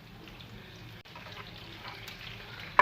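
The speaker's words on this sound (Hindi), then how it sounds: "अब मैं हैंड वॉश कर लेती हूँ अपने।" Tap water running steadily into a sink during handwashing, a continuous splashing rush close by with a brief dip midway.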